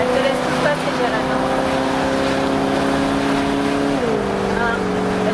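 Cars moving on a road: a steady engine drone with tonal whine that holds, then drops in pitch as a vehicle goes by, fairly loud and close, with some talk over it.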